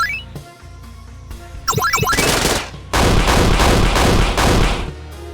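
Gunfire in the video game SHRIFT: bursts of rapid automatic shots and sharp reports alternate with brief pauses and electronic game tones, loud and close.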